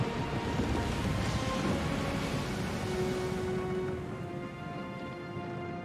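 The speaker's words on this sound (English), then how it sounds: "The storm picks up, lashing your ship and driving you dangerously close to a rocky shore." Storm at sea from the video game Pillars of Eternity II: Deadfire, with steady dense rain and rumbling thunder lashing a ship near a rocky shore, loud and continuous, easing slightly toward the end under a faint held tone.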